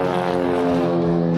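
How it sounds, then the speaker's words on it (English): A propeller airplane flies over near an airport, heard as a steady, loud droning hum with a strong buzzing engine tone that holds evenly across the whole moment, with no talking. "Airplane flying over right now,"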